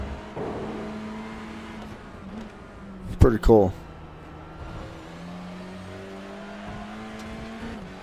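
Touring cars race in the iRacing sim at Road Atlanta, their engines droning steadily beneath a commentator's voice, with a short burst of louder mechanical noise in the middle.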